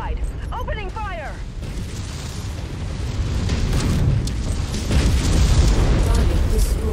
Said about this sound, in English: Just blasted that mech in half.